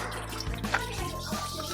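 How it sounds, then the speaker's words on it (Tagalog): Running tap water splashes steadily into a sink as fish is rinsed, a continuous close wash of water with small bumps and drips from handling. "babanlawan po natin ng babanlawan hanggang sa luminaw po ang ating tubig at para hindi po malangsa ang ating isda"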